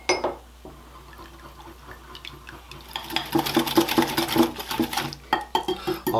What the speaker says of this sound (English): we're just going to whisk this stuff together until it's completely combined